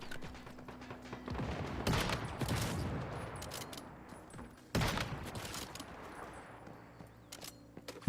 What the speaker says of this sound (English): Dude's shooting grenades at me.